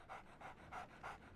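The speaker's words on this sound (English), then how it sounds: "So, Barnes has a dog now." A dog in the video game Sherlock Holmes The Awakened pants steadily, its quick rhythmic breaths repeating about every third of a second, soft and close with no talk.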